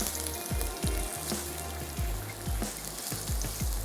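Potato and beetroot pieces for a chana pulao cooking in a hot pan, a steady close sizzle with repeated soft thuds and crackles throughout, no voices.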